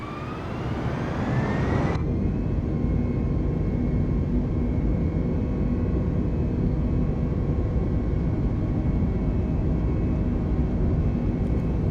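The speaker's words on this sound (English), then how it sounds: "we're going to be taking off from LaGuardia Airport" Airliner taking off from LaGuardia Airport in Flight Simulator 2020, a loud steady engine roar with a rising whine over the first two seconds, then a dense sustained rumble holding for the rest of the clip, no voices.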